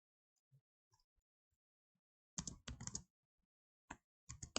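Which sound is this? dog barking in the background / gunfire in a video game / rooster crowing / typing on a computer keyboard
typing on a computer keyboard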